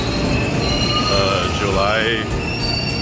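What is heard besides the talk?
Osaka Loop Line train, wheels squealing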